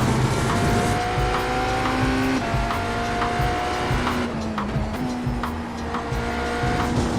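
Race car tires squealing and skidding through a drift in the iRacing sim, an IMSA GTE car at Le Mans, with steady loud engine drone and sliding pitch tones throughout, no talking.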